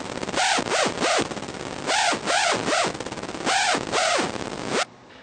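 A hardstyle synth screech on a held F note sweeps up and down with MIDI pitch bend in repeated bursts, bright and harsh, loud and alone, cutting off abruptly near the end.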